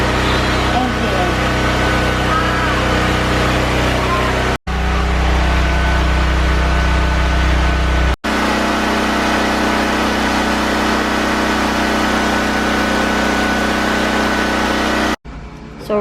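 A portable power generator hums steadily during a blackout, a loud continuous engine drone with brief cuts, while people talk over it.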